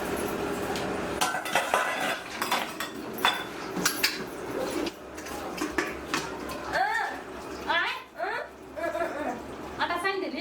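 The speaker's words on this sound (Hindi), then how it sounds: "हम बर्तन धोई दै छियै।" Dishes being washed by hand, with pots and cutlery clattering and clinking close by and water running, while people talk over the noise.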